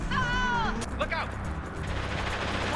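Gunfire from a ship off the coast in the video game Mass Effect 2, loud, sustained battle noise with sharp bursts and a dense low rumble, heard under a voice that speaks at the start.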